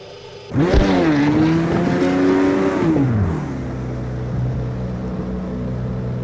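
Race car in a sim racing game driven with a loose setup, engine revving hard through a rising and falling pitch sweep, then easing to a steady lower drone, loud and close, no talking.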